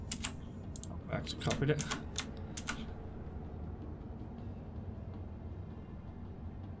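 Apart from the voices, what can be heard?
typing on a computer keyboard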